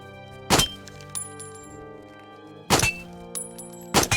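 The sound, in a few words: gunshots at targets in a VR video game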